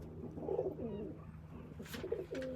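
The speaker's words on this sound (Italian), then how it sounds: "Ci sono due piccioni che litigano" Two pigeons fighting indoors give low throaty coos and scuffling flutters, a few soft calls with a brief burst of wing noise, faint and close.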